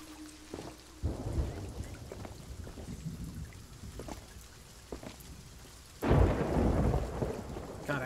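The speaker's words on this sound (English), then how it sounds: "I hate being inside a storm." Thunder rumbles through steady rain during a storm at sea in the pirate game Sea of Thieves, with low booming rolls near the start and a louder crash later.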